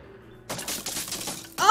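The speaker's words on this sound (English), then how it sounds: "A gunshot rang out and I yelped" A small handgun firing in the Steam Prison visual novel game, a sharp burst with crackling, shattering texture followed by a second loud hit, fairly close and loud.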